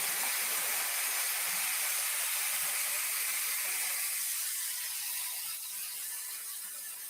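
Hair dryer on the cool setting blowing steadily, a loud, broad rushing hiss that holds for several seconds and eases slightly toward the end, near and without talk.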